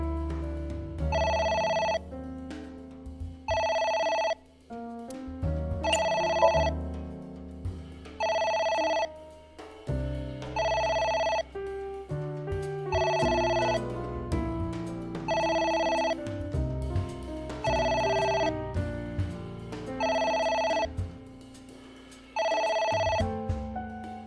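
A telephone rings repeatedly in the video game AI: The Somnium Files, with evenly spaced tonal rings over soft background music.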